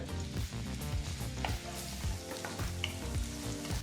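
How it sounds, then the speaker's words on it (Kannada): Chopped onion sizzles in hot oil and ghee with cumin and kasuri methi over a medium flame, a dense, steady crackle with occasional stirring scrapes and pops, no voices. "ಸರಿಸುಮಾರು ಮೂರರಿಂದ ನಾಲ್ಕು ನಿಮಿಷ ಮೀಡಿಯಂ ಫ್ಲೇಮ್ನಲ್ಲಿ ಈರುಳ್ಳಿನ ಫ್ರೈ ಮಾಡ್ಕೋಬೇಕಾಗತ್ತೆ"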